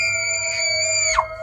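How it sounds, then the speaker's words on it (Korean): A short shrill scream from a friend in a horror story, one sharp cry that bends downward in pitch over sustained eerie tones. "친구의 비명소리가 들렸다"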